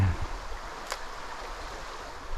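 Fast river current runs through weedy water at a fishing spot, a continuous rushing wash of moderate loudness with one brief splash near the start and no speech.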